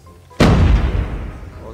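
A sniper rifle fires once in a video game: a single loud, sharp crack followed by a long, booming tail that slowly fades.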